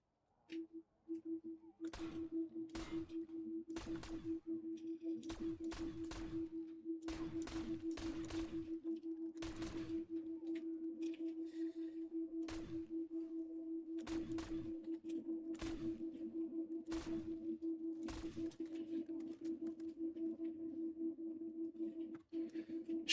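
Gunfire in the Black Ops 7 Zombies video game: about a dozen sharp shots or short bursts at irregular intervals over a steady low in-game hum, with no talking.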